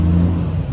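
A loud car drives past outside a garden compost area, a steady low engine rumble filling the moment with no pause.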